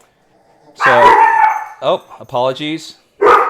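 Dogs barking indoors close by, loud harmonic barks and yips in a short burst, a pause, then more barking, with a person briefly speaking between them.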